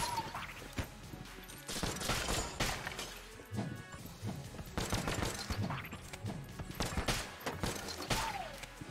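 Rapid bursts of weapon fire in the video game Enter The Gungeon crackle and smash throughout, dense and busy with overlapping impacts and chiptune-like effects, with little pause between shots.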